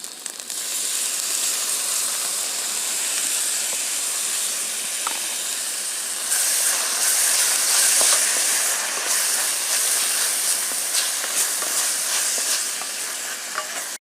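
Tomatoes sauté in a pan with onion, ginger and garlic paste, giving a continuous loud sizzle and hiss with occasional stirring scrapes for a Hyderabadi chicken dish.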